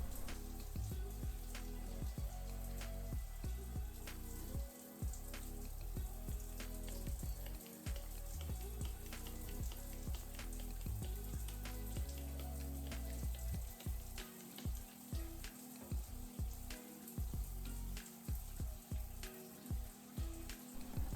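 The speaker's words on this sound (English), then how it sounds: "So I'm going to go ahead and rinse this first round of shampoo out." Water runs steadily while shampoo is rinsed out of hair locs, a faint continuous splashing and trickling spray with uneven spatter, close by and without talk.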